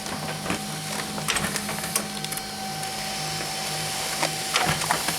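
A printer prints phone contacts onto paper, its steady whirring mechanism running with occasional clicks and knocks, close and moderately loud.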